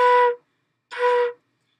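A flute sounds two short B flat notes, each tongued with a "do" syllable. Both are clean, breathy and separated by a brief silence, with nothing else heard.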